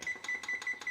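A kitchen timer beeps in quick, evenly spaced electronic chirps, five short bright tones in about a second, close and clear with no talking.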